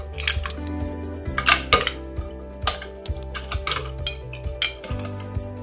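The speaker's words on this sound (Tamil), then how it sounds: "இதுக்குள்ள நம்ம ஐஸ் கியூப்ஸ் தேவையான அளவுக்கு சேர்த்திக்கலாம்" Ice cubes clink and rattle into a glass of Kerala kulukki sarbath, several sharp clinks and knocks in an uneven cluster, close and moderately loud, with no talking.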